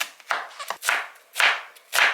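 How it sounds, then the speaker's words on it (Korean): A heavy Chinese-style cleaver comes down on a cutting board in about five sharp, close chops at an uneven pace, with short pauses between them. "손목에 힘을 빼고 이렇게 칼의 무게로만 내리치면 또 괜찮거든요"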